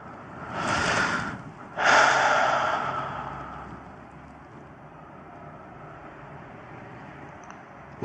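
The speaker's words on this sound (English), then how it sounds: "And keep breathing" Two deep breaths, a long airy inhale and then a fuller exhale about a second later, sound close and clear before trailing into quiet room tone.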